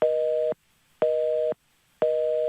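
A telephone busy signal repeats as loud, steady tones, each about half a second long with equal silent gaps between them, sounding three times in an even rhythm.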